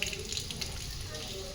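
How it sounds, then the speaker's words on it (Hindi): Light rain just beginning to fall nearby, a steady soft hiss and patter of water that stays continuous and fairly close throughout. "अभी ये साइड में अभी पानी चालू एकदम हल्का हल्का चालू हो गया"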